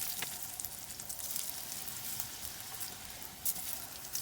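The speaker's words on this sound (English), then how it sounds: "We're gonna fry them just a little bit." Baked potato wedges crisping in hot oil in a pan give a steady, soft sizzle with scattered small pops, continuous and fairly quiet throughout.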